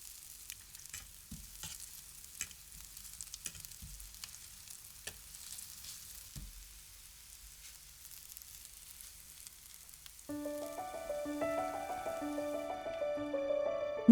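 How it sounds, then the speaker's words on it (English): Potatoes crackle and sizzle as they hit hot fat in a roasting tray, with scattered spoon clatter and spitting bursts over roughly ten seconds before soft music takes over the frying. "Add the potatoes to the hot fat as quickly as possible, using a long-handled spoon."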